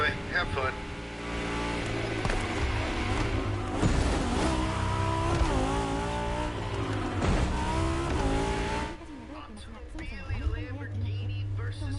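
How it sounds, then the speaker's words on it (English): A Lamborghini and a Ferrari racing in The Crew Motorfest, engines roaring continuously with pitch climbing and falling through gear changes, loud and close, easing off near the end. "Lamborghini versus Ferrari"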